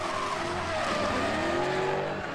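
A drift car brakes hard with the left foot during a drift-series street event, its front tires skidding and flat-spotting under a loud, continuous engine roar and tire scrub across a couple of seconds.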